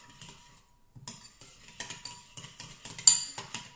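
Spoon clinking and scraping in a bowl while mixing a tuna poke bowl marinade, with soft irregular stirring taps that grow brighter and busier after a brief pause, close by with no talk.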